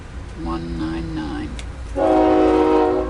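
A passing train sounds its horn in long, tonal blasts, first a lower chord, then a louder, richer one that holds steady under a spoken voice.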